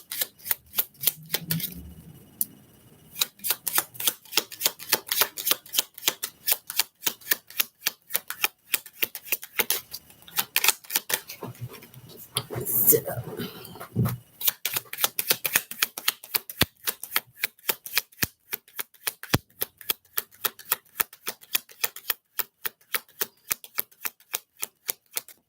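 Tarot cards shuffled by hand, close up: long runs of rapid, crisp riffling clicks in bursts with brief pauses between them, sharp and dry, with no voices over them.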